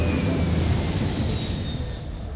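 Airplane taking off, a loud, steady roar of jet engines heard from inside the cabin, continuous and broadband throughout and easing slightly toward the end.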